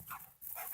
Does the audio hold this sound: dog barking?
yes